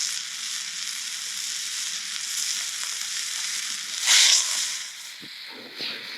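Steak sizzling and flaring up in bacon fat on a camp cooktop while caravanning in Australia, a steady loud frying hiss with a brief flare-up burst and a few clanks.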